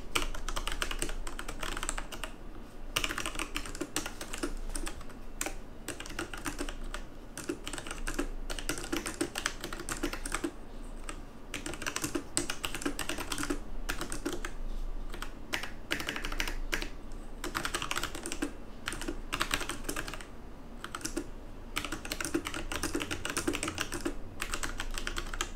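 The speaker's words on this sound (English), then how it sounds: "So here's a little soundbite of the switches." Typing on a Creative Vanguard K08 gaming keyboard with Omron mechanical switches, a rapid, steady stream of close, crisp clicks and clacks continuing throughout with no talk.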